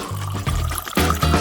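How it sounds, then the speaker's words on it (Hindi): Boiling water poured from a kettle into a giant glass holding a candy, a close, loud gurgling stream in two pours with a short break between them. "यहाँ उबलते पानी की केतली है। मैं अंदर पानी डालती हूँ"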